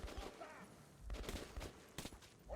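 Gunfire sounds out in the video game Metro 2033: a few faint, sharp bursts of shots with bits of noise between them, quiet and distant in the mix.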